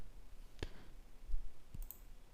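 Two sharp mouse clicks on a link in the Firefox browser, separated by about a second, faint and close against a low background hiss.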